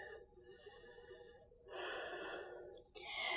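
Audible yoga breathing in a power yoga class: a couple of long airy breaths through the nose, with a slow exhale during a forward fold, close and soft, with no talk.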